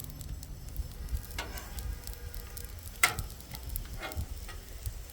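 Steak in a thickening sauce sizzles and crackles steadily on a Blackstone griddle, with a soft continuous fry and occasional sharper spatula scrapes and clicks close by, no talking.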